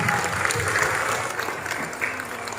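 Applause for the teachers at a Christian kindergarten graduation and class promotion ceremony, a dense, steady crowd clapping that carries on throughout at a moderate distance.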